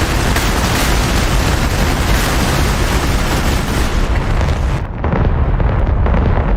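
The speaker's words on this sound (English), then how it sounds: "Let's see what those bombs are doing." Bombs bursting on a target in the DCS World flight simulator over the Persian Gulf map, a loud continuous rumbling roar of explosions that drops briefly near the end before swelling again.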